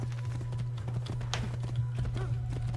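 Horse hooves clip-clop steadily in Assassin's Creed II, a quick even trot over a constant low in-game hum, moderately close with faint background activity.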